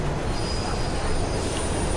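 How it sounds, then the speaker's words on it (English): A train rumbles and squeals through a tunnel in the video game Mirror's Edge, a dense, steady roar of wheels and rails filling the whole moment. "There's a train coming behind you."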